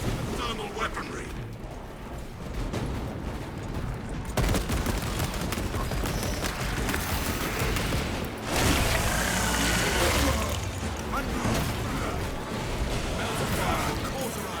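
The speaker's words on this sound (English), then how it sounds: "Melter fire will cauterize and fuse their tunnels shut" A melter thermal weapon fires in the Warhammer 40,000 game Space Marine 2 with a loud, continuous roaring blast and crackling, mechanical rattles, surging in intensity at intervals and staying close and dense throughout.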